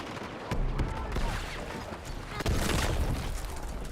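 M4 rifle fire in the video game Battlefield 6 comes as loud bursts of rapid sharp shots with heavy booms and clatter, continuing throughout at close range.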